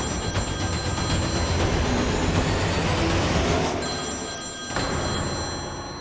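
A telephone rings in a loud, repeating electronic bell pattern over a busy background for several seconds, with the ringing briefly dropping out near the end before resuming, no speech.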